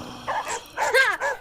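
On a high school theatre stage, an actor voices a dog sound in a few short, whining, bark-like bursts, up close and loud, with a human voice clearly imitating the animal.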